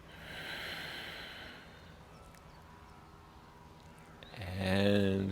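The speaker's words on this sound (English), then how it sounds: "deep breath in" A deep inhalation during a yoga session, a soft drawn-out breath close to the microphone, followed by a voice speaking near the end.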